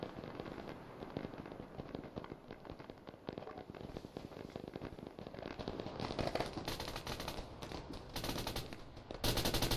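Dense gunfire crackles through an Arma 3 battle, rapid overlapping shots and automatic bursts rattling continuously at a distance, growing louder and sharper near the end, with no talk.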